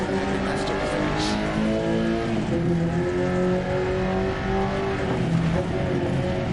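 A rally car engine in Dirt Rally 2.0 on a stage in Argentina, loud and continuous, its revs shifting and climbing while tyres rumble over gravel.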